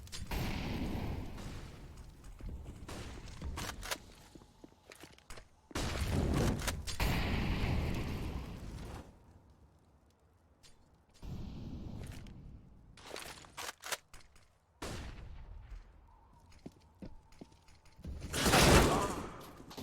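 Gunfire in a Counter-Strike tournament match on the Nuke map: repeated bursts of rapid shots and sharp cracks come in clusters separated by quieter stretches, with footsteps between them and one heavy burst near the end.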